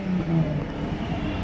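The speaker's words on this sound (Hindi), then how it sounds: "बट कार की साउंड सुन के लग रहा है कि ये बहुत ही फास्ट होगी" A Maybach car engine revs briefly with a loud, close, rising and falling roar and no talk.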